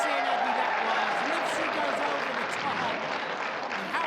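Crowd at a judo Grand Prix in Jeju applauding a seoi-nage throw for ippon, dense sustained clapping and cheering throughout with a commentator talking over it.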